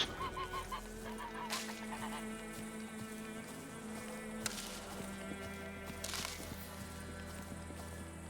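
Goose honking in The Witcher 3, a few short honks early on over a steady hum of game ambience and background music, with no talking.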